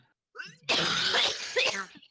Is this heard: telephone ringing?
no